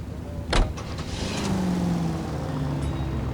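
A car engine hums steadily while driving in the 1940s Los Angeles detective game LA Noire, with a sharp thud near the start, then a rising engine drone underneath.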